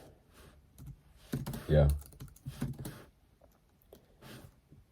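Fast typing on a computer keyboard, with close, clattering keystrokes in uneven bursts and a brief heavier thump. A voice talks briefly over it.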